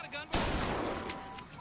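A single loud shotgun blast in the video game BioShock Infinite, a sharp sudden boom followed by a decaying rumble, with faint game sounds before and after.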